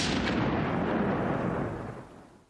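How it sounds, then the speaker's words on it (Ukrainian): A powerful explosion on a Kyiv street erupts as a loud, dense roar that hits at full force and then rumbles away over about two seconds. No voices are heard. "За секунду лунає потужний вибух."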